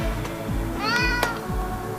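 A domestic cat meows once, a clear drawn-out tonal cry near the middle, over a steady low rhythmic hum and pulsing background.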